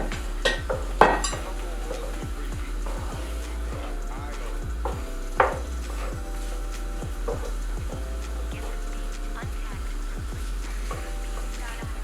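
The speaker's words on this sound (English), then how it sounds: "So put all your zucchini and squash in. And we're going to saute this down in our oil." Zucchini and squash sauteing in oil in a pan, a steady low sizzle with repeated scraping stirs throughout and a couple of louder clanks of a utensil against the pan.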